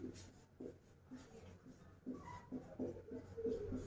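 Writing on a board during a Hindi-language class 9 science lesson: soft, intermittent scratchy strokes of chalk or marker in short bursts, quiet and close, with a faint murmur of voice underneath.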